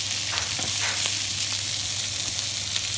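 Monkfish liver frying in a pan, giving a steady, close sizzle with fine crackle that holds evenly for about three seconds over a low hum, with no talk.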